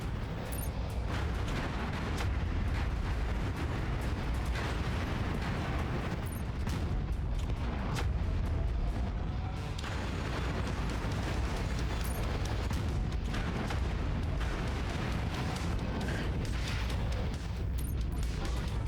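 Continuous heavy rumbling explosions and blasts as a food distribution center is destroyed in MechWarrior 5: Mercenaries, deep booms and crackling impacts piling on one another, loud and unbroken throughout.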